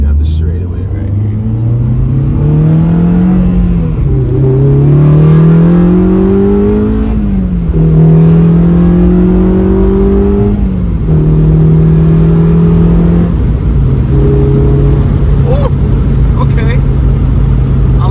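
A car fitted with an Acuity 3-way short shifter accelerates hard down a straightaway. The engine note climbs loudly and close, then drops at several quick gear changes before climbing again.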